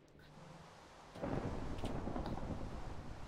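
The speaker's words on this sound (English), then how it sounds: "Man, that lightning is crazy out there." A Minecraft thunderstorm rumbles in a sudden heavy roll of thunder, loud and broad, over a steady hiss of rain and wind that carries on to the end.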